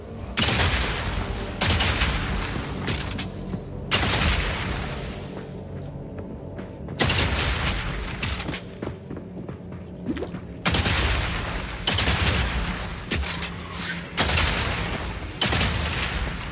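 Shotgun fire in a video game booms in heavy repeated blasts, several loud bursts spaced a few seconds apart with quieter reverberating stretches and crashes between them.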